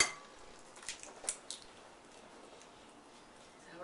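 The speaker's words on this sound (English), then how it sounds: "we're going to take our eggs and we're going to separate them" Eggs for homemade cupcakes are cracked and separated into bowls, giving a few faint, sharp taps and clicks against the rims followed by quiet handling, with no talking.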